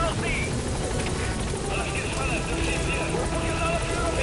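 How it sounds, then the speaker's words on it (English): An enemy helicopter in the video game Metal Gear Solid V thrums with a steady, continuous rotor drone. Muffled voices and other game noise sit underneath it. "who the fuck is concentrating fire on the enemy chopper?"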